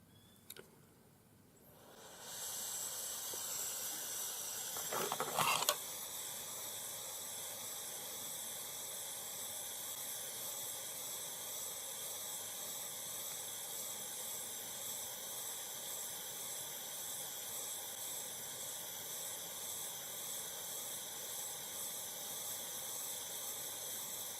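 A jeweler's torch is lit and then roars as a steady, close hiss, warming a bezel setting on a turquoise ring until the flux dries. There is a brief pop near the start and no talking.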